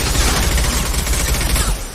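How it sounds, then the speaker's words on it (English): High-impact gunshots in the video game Mass Effect 2, a loud burst of rapid heavy fire packed into about two seconds before easing off abruptly, with no talking. "Firing a high impact shot."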